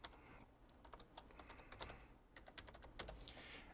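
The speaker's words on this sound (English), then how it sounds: "I'm just going to type in their email address here" Fingers typing an email address on a computer keyboard, a quiet, irregular run of key clicks with short bursts and brief pauses, heard alone at close range.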